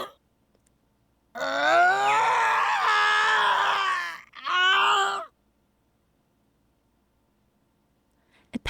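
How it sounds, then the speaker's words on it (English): A harsh, piercing screech from the Steins;Gate video game, like feedback from a giant speaker, rings out loudly in two bursts, a long one and then a shorter one, with silence before and after. "A terrible screech fills my head, like feedback from a giant speaker."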